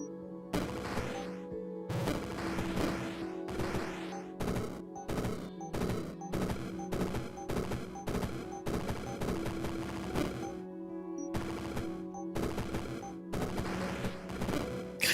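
Rapid bursts of video game gunfire, sharp repeated shots in clusters with brief gaps, loud and close throughout with no voices.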